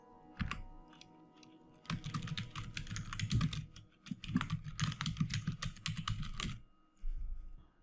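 Someone types on a computer keyboard in quick, irregular bursts of clicking keys, close and fairly quiet, with short pauses between runs of keystrokes.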